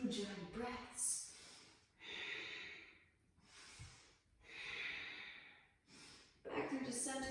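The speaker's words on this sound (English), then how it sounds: "Pause if you feel a good stretching sensation, deep ujjayi breaths." Deep ujjayi breaths during a seated yoga twist, slow, hissing exhales and inhales in long breathy waves, four or five cycles, close and fairly quiet.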